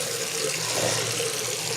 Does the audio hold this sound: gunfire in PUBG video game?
no